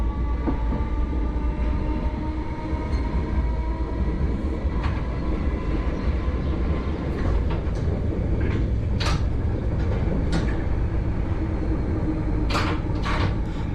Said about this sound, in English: We're currently departing Seaford on the Seaford single line and our speed limit is 15 miles an hour